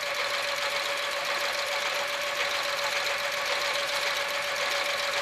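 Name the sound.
sewing machine stitching fabric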